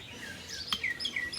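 Small birds chirping in short bright tweets around a tree house outdoors, fairly near but soft, over a faint background hiss with no talking.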